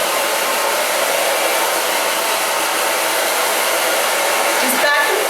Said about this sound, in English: now I'm going to dry it